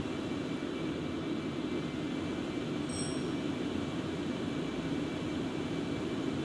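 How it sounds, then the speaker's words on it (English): Concorde engines roll back toward idle in flight just past Mach 1, heard as a steady, dense roar filling the cabin, constant and unbroken with no talk. "So throttles need to come back now to idle."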